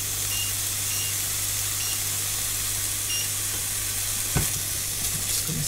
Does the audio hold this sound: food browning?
yes